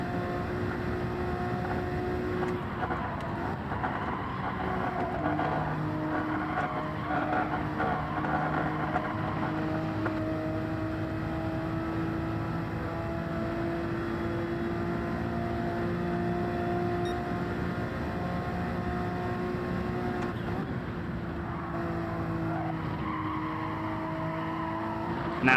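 Alfa Romeo 4C engine in the Gran Turismo 7 racing game, a steady sustained drone with shifting harmonic pitch as the car accelerates and brakes through corners, loud and continuous throughout.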